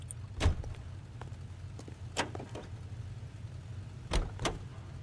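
Car door thunks and shuffling movement as a character gets into a vehicle in the video game L.A. Noire, with several sharp knocks spread across the clip over a low, steady engine idle.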